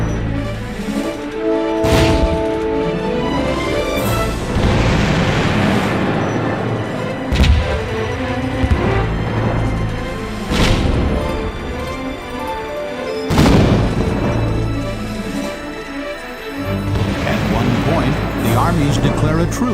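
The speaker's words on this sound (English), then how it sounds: "In a great cannonade, the walls are blasted to pieces." Cannon fire pounding the walls of Edinburgh Castle during a long siege, several heavy booming blasts spaced seconds apart over a rumbling bed, mixed under steady narration and music.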